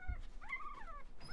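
A puppy or young dog whimpers in a short, thin, rising-and-falling whine that lasts under a second, faint and close, with a soft low thump at the start and no speech.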